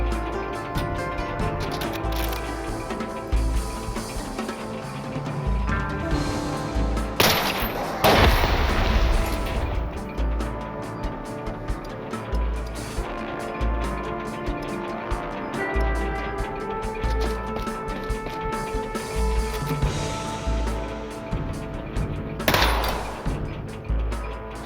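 Robots trade shots in SteamWorld Heist II as punchy gunfire and booming impacts ring out over a steady game soundtrack, with a few louder blasts standing out near the middle and end.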